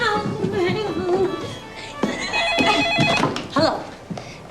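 A telephone rings in a home, its bell tones repeating through the clip while someone talks over it nearby.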